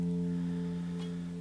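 A single guitar note in first position, fretted just behind the fret, rings out clear and sustained with a steady harmonic tone for the whole stretch, alone and without talk.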